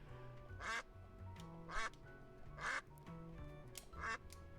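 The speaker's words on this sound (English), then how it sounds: "I have a quack button? I just pressed triangle by accident." A cartoonish duck quack from the quack button in the video game Duck Detective repeats four times at roughly one-second intervals. The quacks are clear but fairly quiet over soft background game music.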